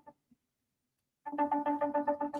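A truck radio ringing like a phone ringtone, a rhythmic series of bright repeated electronic tones starting abruptly after near silence, close and steady.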